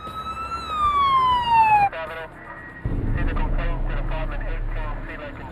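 An ambulance siren wails loud and close in a single falling sweep, then cuts off abruptly, followed by a brief pause and a stretch of busy, murmuring background sound.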